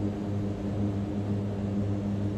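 Mitsubishi MU-2 turboprop engine in Microsoft Flight Simulator 2020, a steady droning hum with a low propeller throb, constant in level and heard alone.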